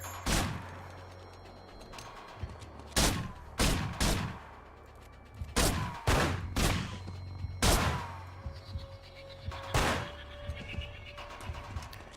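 Gunfire rings out in a shootout in the video game Manhunt, with loud, sharp single shots at irregular intervals, sometimes in quick pairs, over a low droning game ambience.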